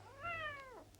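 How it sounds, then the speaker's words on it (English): A stray cat gives a single clear, drawn-out meow that rises and then falls away, fairly faint and heard alone against a quiet background. "A lot of cats? Yeah. They're strays."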